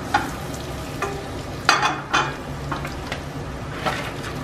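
Cabbage, bok choy and other vegetables hit a pan of melted butter and herbs over medium-low heat, sizzling steadily with several sharp stirring clatters and scrapes; no one speaks.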